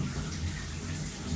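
Shower water at a Cancun all-inclusive resort, a steady, moderately loud hiss and splash of running water with no voices.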